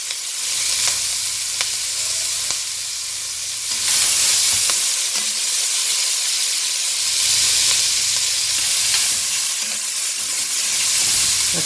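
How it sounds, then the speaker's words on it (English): Onions sweating with a little salt in a pan, giving a steady bright sizzle and hiss with occasional stirring scrapes, loud and close, swelling slightly partway through. "I'm going to put a little salt in here to sweat these onions off"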